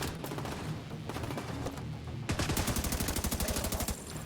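Blind-fire gunfire from behind cover in The Division 2, a loud, rapid automatic burst of evenly spaced shots that starts midway after scattered earlier shooting, close and uninterrupted.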